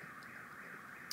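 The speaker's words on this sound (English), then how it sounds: "I apologize for the car alarm in the background." A car alarm drones steadily in the distance, faint and continuous, with a small click at the end.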